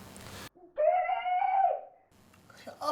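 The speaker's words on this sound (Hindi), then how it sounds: "अब क्यों चिल्ला रही है मम्मा?" A mother screams, a single loud, high-pitched wavering cry of about one second that cuts sharply through an otherwise quiet room, with muffled talk before and after it.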